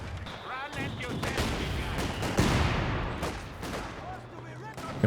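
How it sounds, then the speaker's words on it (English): Infantry gunfire rattles in a Company of Heroes 2 battle, with bursts of rifle and machine-gun fire mixed with heavier booms over a dense combat backdrop, while a commentator talks throughout. "Enemy infantry firing."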